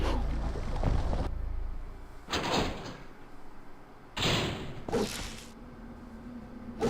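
Doors swinging open in the Devil May Cry video game: several separate broadband whooshing door sounds, each a sharp burst that fades quickly, over a low ambient hum with no voices.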